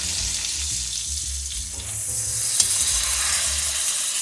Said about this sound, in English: Just keep basting it in that butter